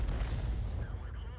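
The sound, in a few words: M53/M55 artillery firing, from a video game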